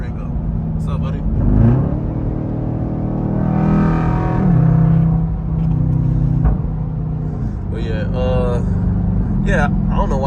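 An SRT Durango's engine rumbles and revs as the gas is tapped, giving low burbling pulses and pops, with someone talking over the engine noise inside the cabin.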